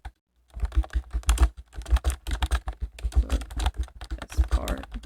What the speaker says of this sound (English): I could type.